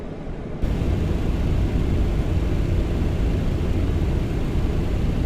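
MD-11 jet engines in a flight simulator give a loud, steady broadband roar, heard from outside the aircraft, that starts abruptly and holds unchanged throughout.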